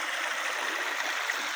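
River water flowing steadily beside a roadside plot of village land, a continuous broadband rush and gurgle with no pauses, fairly close and even in level, heard alone without talk.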